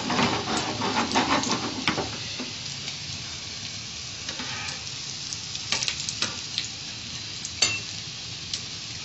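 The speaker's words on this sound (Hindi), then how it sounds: "हल्की आंच पे इसको इस तरह इतना ऑयल डाल के कि थोड़े से ये हाफ से थोड़े से डूब जाए ऑयल में, इसको तल लें" Chicken shami kababs shallow-frying over low heat in oil that covers them about halfway, giving a close, continuous sizzle with crackling pops and a few sharper spits scattered through it.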